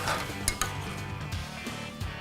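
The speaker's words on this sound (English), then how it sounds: "And now we're just gonna move the pan until that butter melts." A pan of piccata sauce with dollops of butter is swirled off the heat, a quiet steady sizzle with a couple of light metallic clinks from the pan near the start.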